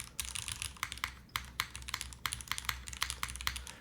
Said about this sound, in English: I think the spacebar sounds quite nice.